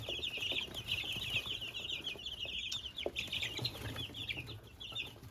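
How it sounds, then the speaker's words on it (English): Many chicks crowded in a brooder, a continuous dense chorus of high-pitched peeping, close and steady, with some low rustling underneath. "There's just so many chicks in there that I think it's a little too tight."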